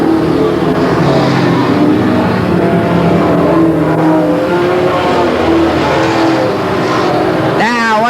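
Stock race cars roaring around the oval at Willamette Speedway in 1989, engines loud and sustained as they run side by side, with a track announcer talking over the din and a sharp rising whine near the end.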